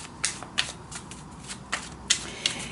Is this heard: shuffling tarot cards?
yes